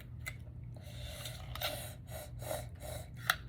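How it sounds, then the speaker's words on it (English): A drink drawn through a straw held between the teeth during recovery from double jaw surgery, heard as several short, close, airy sucking gasps at irregular intervals, ending in one sharper slurp. "I love drinking with straws now. I stick it in between our teeth."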